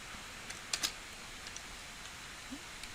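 Faint computer mouse clicks come at irregular intervals while points are placed with a polygon lasso tool in a drawing program, including a close pair of sharper clicks, quiet and near.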